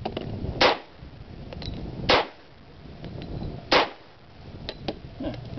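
Three sharp pistol shots from a Smith & Wesson third-generation 10mm handgun, spaced irregularly over several seconds, each a loud crack with a short decay over faint outdoor background noise.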